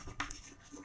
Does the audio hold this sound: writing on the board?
yes